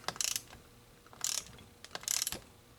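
Ratcheting clicks from a socket wrench tightening a bolt during reassembly of a Husqvarna YTH2242T rider mower, in three quick bursts of close, crisp mechanical clicking separated by short pauses.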